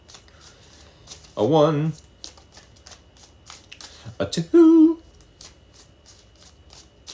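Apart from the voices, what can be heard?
playing cards being shuffled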